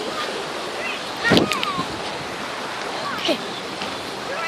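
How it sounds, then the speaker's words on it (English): A stream rushes in a steady broadband wash close by outdoors, with a voice and other brief voices and noises rising over the flowing water. "It's a stream."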